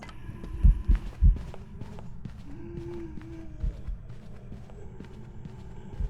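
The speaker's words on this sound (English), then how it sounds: "Now we are listening for the footsteps." Heavy, thudding footsteps of a ghost during a hunt in the horror video game Phasmophobia, a few loud low stomps early on and then softer, irregular steps under a steady ambient hum.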